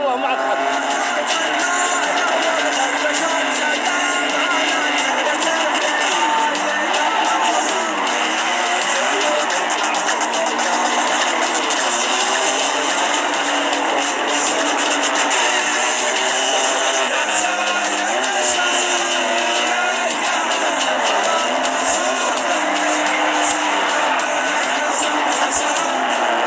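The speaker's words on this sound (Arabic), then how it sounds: "أمانة تفحيط أسطوري" A Shas pickup truck drifts in the GTA 5 video game, its engine revving in a loud, continuous drone with tire squeal mixed in, and voices can be heard over it.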